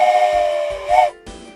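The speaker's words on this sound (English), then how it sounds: "Joke wants a train whistle" Short tonal whistle blasts from a train in the railway game OpenTTD, a few brief hooting tones close together, sounding alone without talk.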